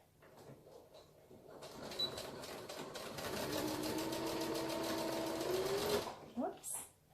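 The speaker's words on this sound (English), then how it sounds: "now I'm just going to add that last layer of stitches" A sewing machine runs a steady, continuous stitching whir for several seconds while adding a final layer of stitches to a one-piece fabric face mask with a filter pocket, starting after quiet handling sounds and ending in a few brief clunks.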